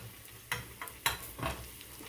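Hush puppies frying fast in hot oil, a steady sizzling hiss with a few louder bursts and pops, close by and alone.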